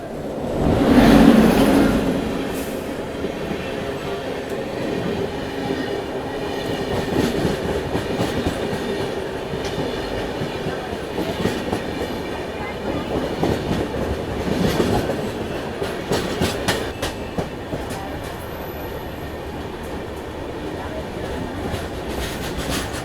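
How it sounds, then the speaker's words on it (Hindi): A Tamil Nadu Sampark Kranti Express passes at a crossing after Jhansi, heard from inside another train as a steady loud rumble with rhythmic wheel clatter and rattling that rises and falls throughout. "वो ट्रेन की क्रॉसिंग चल रही है अभी झांसी के बाद से"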